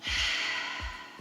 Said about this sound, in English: take a big breath in